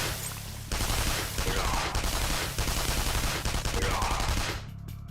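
Gunfire in the role-playing game Persona 5 Royal, a dense, loud burst of rapid shots lasting several seconds, starting abruptly and cutting off near the end.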